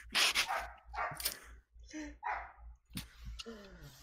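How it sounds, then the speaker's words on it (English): A neighbor's dog barks repeatedly in short, uneven bursts, some near and loud, with a voice talking among them. "Shut up, neighbor dog."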